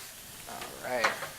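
Shrimp frying in a pan, a soft steady sizzle close by with a brief brighter crackle and hiss swelling near the end, no one talking.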